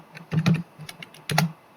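Fingers tap out a short run of button presses on a calculator: a few quick, close clicks, a pause, then another pair of taps, quiet and nearby with no talking.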